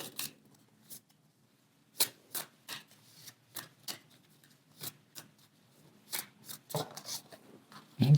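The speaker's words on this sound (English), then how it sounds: "Let's take one more card." Tarot cards being shuffled and drawn by hand, a run of crisp, close papery snaps and flicks in irregular bursts with quiet gaps between, growing denser toward the end.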